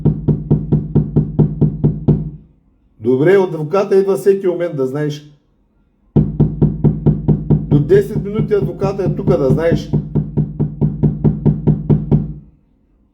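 Police pound on an Airbnb door trying to break it down, delivering loud, rapid, evenly spaced heavy thuds in long runs, with someone talking during the pause between them.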